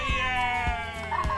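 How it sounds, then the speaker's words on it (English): A cat gives a drawn-out, tonal meow, close and clear, with a few soft thumps underneath. "the kitty cat"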